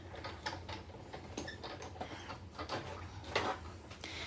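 A foil machine's handle is cranked, giving faint, close ratcheting clicks and mechanical gear whirring in a steady rhythm with a few sharper clacks and no talking.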